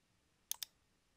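A computer mouse gives a quick double click, two sharp, faint taps close together against near silence.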